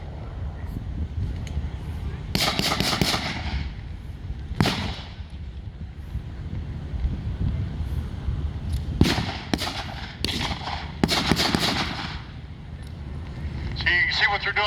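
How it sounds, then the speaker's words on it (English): Blank machine gun fire crackles in short sharp bursts at a Pacific war reenactment, with scattered loud reports and quick volleys. Someone talks throughout. "See, you see what they're doing now, that one shoots,"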